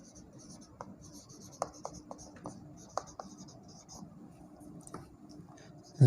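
A pen scratches out quick strokes and taps on a writing surface during a physics lesson on light reflection, producing faint, irregular scribbles with a few sharper clicks, close by under soft background murmur.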